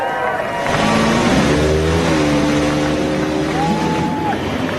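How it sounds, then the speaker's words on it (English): IndyCar race engines firing up at the Toronto street race, a crowd of loud, rising and falling engine tones layered over one another, sustained and close, with talk underneath. "Drivers, start your engines."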